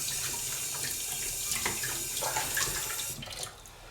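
Water runs steadily from a tap over a new Japanese natural sharpening stone used for straight razors, a continuous broadband splashing and hiss that eases off near the end.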